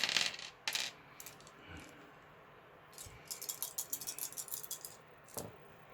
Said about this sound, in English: So roll 4 dice and try to get 2 or better.